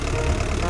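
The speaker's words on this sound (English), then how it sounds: "let's fire up the engine with the up on the D-pad" An airport vehicle engine in the Giant Machines 2017 video game, a steady low idling rumble that runs unbroken and fairly loud through the short moment.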